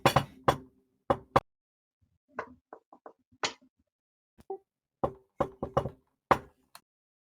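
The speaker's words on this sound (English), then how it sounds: "Adeline will join in the knocking" Knocking on a door in irregular clusters of sharp, close raps separated by brief pauses.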